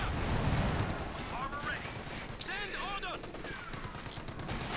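Kettenwerfer rocket artillery firing in the Company of Heroes 2 strategy game, a dense burst of rapid crackling blasts followed by rising shrieks of rockets, moderately loud and continuous.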